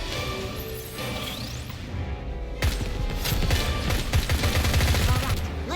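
NIKKE game gunfire opens up with a dense, loud burst of rapid automatic shots. A brief lull with lighter mechanical sounds comes first, then the firing runs continuously to the end.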